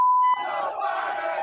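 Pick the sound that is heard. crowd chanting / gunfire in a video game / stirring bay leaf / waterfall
crowd chanting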